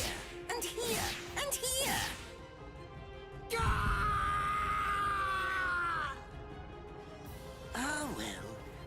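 A man screams and groans in pain in the video game Bleach Rebirth of Souls, a long strained cry between shorter grunts and whooshing strikes, loud and close.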